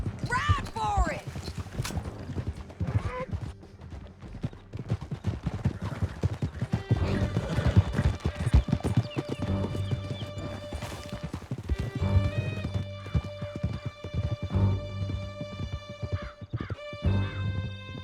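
Horses gallop in Red Dead Redemption 2, with a steady, loud clatter of hooves, neighing and whinnies over an orchestral score, while voices shout throughout.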